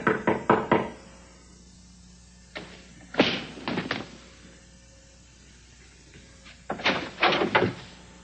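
A door in a television drama, with a cluster of sharp knocks, a pause, then heavier thumps and rattling as the door is handled, followed by another run of knocks and clunks, close and fairly loud.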